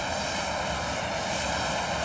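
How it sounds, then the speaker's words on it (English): An airliner's auxiliary power unit runs at the gate at LAX as a maintenance tug drives up to the plane's nose, giving a loud, steady, broadband roar and whine with no break. "The APU is on, and now maintenance is driving the tug up to the front of the plane."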